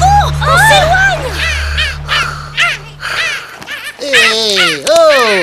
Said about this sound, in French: allez, du balai, les mouettes